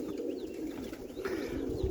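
Pigeons cooing nearby in a steady, continuous murmur from roller pigeons flying over a loft yard, soft and even with occasional brighter chirps, no talk.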